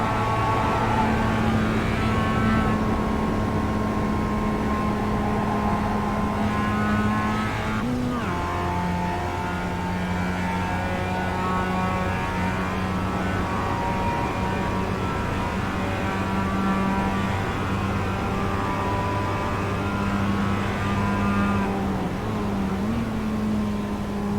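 Several sim racing cars in a video game lap Watkins Glen, their engines droning and shifting pitch continuously as they brake and accelerate through corners toward the bus stop chicane, with gear changes audible throughout and no speech.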